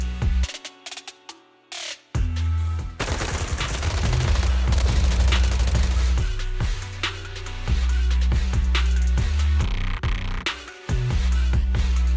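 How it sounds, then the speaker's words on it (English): Bursts of rapid gunfire fill a battle scene in the video game Zenless Zone Zero, starting after a brief lull with dense overlapping shots and heavy booms, loud and sustained with short pauses. "Gunfire? This pattern."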